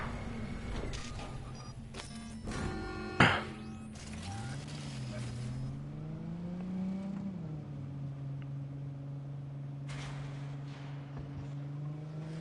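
Car engine in Cyberpunk 2077 revving up and accelerating, a rising then steady drone with a sharp clunk early on and faint background sounds.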